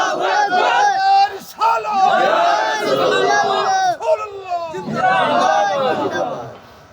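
A large crowd at a Bangla Islamic sermon gathering roars a loud chanted response to a takbir call, voices massed and surging in waves for several seconds.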